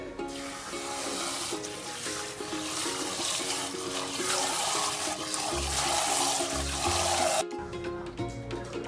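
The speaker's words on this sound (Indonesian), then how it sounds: "cuci beras ketan hingga bersih" Glutinous rice is washed in running water, a continuous splashing and rushing of tap water close by, with steady background music beneath it.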